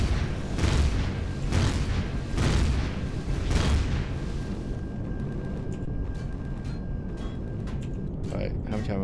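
Explosions from weapons fire on an alien outpost in Empyrion Galactic Survival, a run of heavy repeated booms for about four seconds that fades into a lower lingering rumble.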